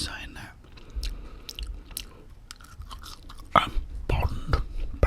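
Someone chews a Big Mac Bacon burger up close, with soft wet mastication and occasional crunchy bites in irregular bursts, louder near the end, with faint whispery breaths between.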